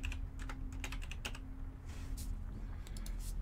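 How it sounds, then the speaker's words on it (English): A computer keyboard struck at an awkward angle, scattered close clicks in uneven clusters over a steady low hum and room noise, with no voice. "typing at an angle like this isn't the best"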